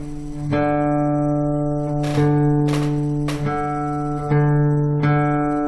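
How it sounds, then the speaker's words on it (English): Guitar strings are plucked one at a time for tuning, about six notes, with pairs of clear tones ringing together close up as the A string at the 5th fret is matched to the open D string. "put your finger on the A string, 5th fret. The D string should sound the same."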